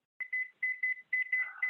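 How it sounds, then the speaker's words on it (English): A kitchen timer beeps in quick repeated electronic bursts, grouped in short clusters with brief pauses between, clear and close in a quiet kitchen where marinara sauce is cooking. "Let me kill the timer again."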